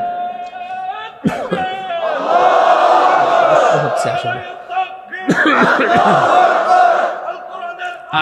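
A large crowd at an Islamic religious gathering roars a chanted takbir response in two loud, sustained bursts, one after the other, filling the space with massed voices.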